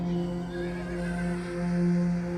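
A horse neighs in a drawn-out, wavering whinny over a steady low drone, fairly loud and close.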